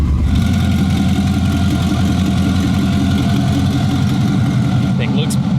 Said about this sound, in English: Basically a stock Mustang. This thing sounds wild.